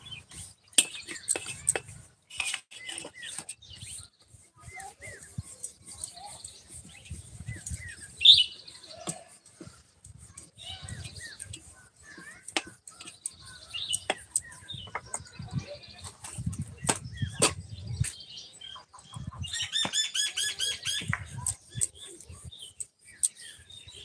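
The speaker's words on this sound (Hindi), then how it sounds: "चिड़ियों की आवाज बहुत प्यारी लग रही है दीदी।" Birds chirp and tweet among dense trees on a morning, quick bright calls scattered throughout at moderate distance, with a busier burst of song near the end and faint rustling underneath.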